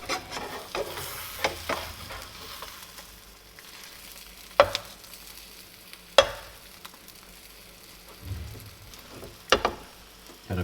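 Food in a frying pan, topped with cheese and just flipped, sizzles softly and steadily, broken by several sharp scrapes and knocks of a utensil against the pan.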